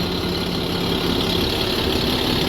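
An SR3 coach bus with a 300-horsepower engine idles close by, a steady, even diesel rumble with no pauses and no talk.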